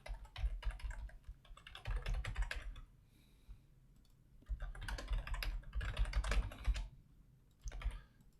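Rapid clicking keystrokes on a computer keyboard while typing an email, in two long bursts separated by a pause and followed by a short final flurry, close and clear with no talk.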